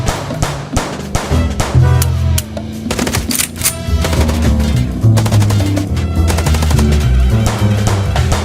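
Rapid bursts of gunfire from the Chicken Police video game during a car chase, dense overlapping shots firing almost nonstop, loud and close over a low rumbling backdrop.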